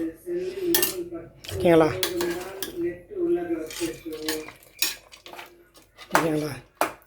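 A metal spoon clanks and scrapes in a cooking pot while masala is stirred, with irregular clinks and rattles up close, and a person talking between the strokes.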